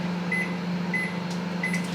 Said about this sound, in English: if you've got this combi microwave oven